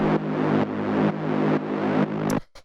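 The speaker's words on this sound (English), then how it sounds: "From there, we have this little bass growl," Techno synth bass growl built from wavetables, holding a G sharp: a thick, buzzy tone pulsing in even half-second swells for over two seconds, then cutting off abruptly with a couple of short clicks.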